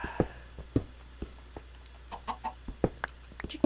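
Chicken clucking in a video game, a scattering of short, sharp clucks and peeps at irregular intervals over a steady low background hum.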